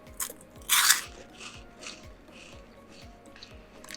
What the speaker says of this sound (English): It has a bit of a crunch in the beginning